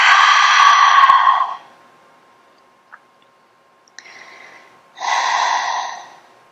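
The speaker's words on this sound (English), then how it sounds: "Take a big inhale breath here. And a big open mouth exhale." Loud breathy open-mouth exhales in a morning yoga breathing exercise: a long forceful sigh-like breath, a quieter breath after a pause, then another strong exhale, close and alone.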